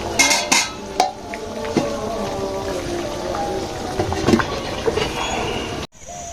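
Whole soybeans tipped into a hot pan in a Bangladeshi village kitchen, crackling and sizzling steadily with clinks of a metal spoon against the pan and faint stirring, close and fairly loud.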